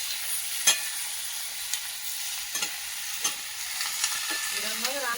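Food frying in a home kitchen pan is stirred, giving a quiet steady sizzle with a few sharp clinks and scrapes of the spoon against the pan.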